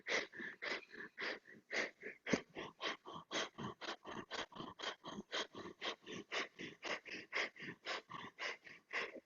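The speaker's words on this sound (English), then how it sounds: "Beautiful, nice strong breathing." Rapid yoga breath of fire done on a mat with the legs lifted: a steady stream of about three forceful nasal exhales per second, close and even, with no talk.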